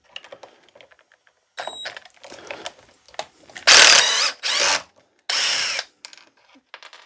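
An Erbauer 1/4-inch hex right-angled driver backs a screw out of a wooden bench in three loud, sustained whirring bursts, preceded by scattered clicks and handling taps, close by.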